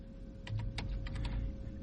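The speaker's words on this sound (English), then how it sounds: "So I'm going to type in" Typing on a computer keyboard, a run of quick, irregular key clicks over a low steady hum, close and fairly distinct with no talking.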